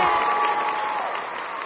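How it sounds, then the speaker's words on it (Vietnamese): Audience applause and cheering in a TV singing competition studio, a continuous wash of many hands clapping that holds steady and eases slightly toward the end, with a faint tonal backing underneath. "Vỗ tay."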